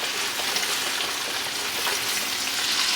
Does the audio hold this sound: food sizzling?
yes